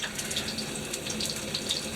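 Water runs from a kitchen tap while zucchini pancakes are being made, a steady close splashing rush with light spattering that continues evenly for the whole moment.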